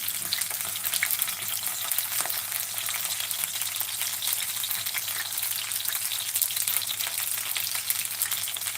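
Dumplings frying in a pan give a steady, close sizzle with scattered small pops and crackles that run unbroken the whole way through, and no voices are heard.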